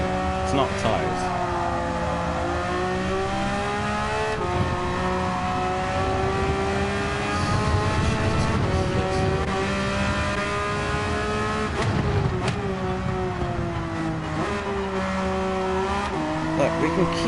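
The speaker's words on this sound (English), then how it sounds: "Mate, this engine's getting worse and worse" A race car in a sim racing league revs hard through gears with a worsening engine, its whine rising and dropping through shifts with occasional tire squeal, steady and close throughout while a driver talks over it.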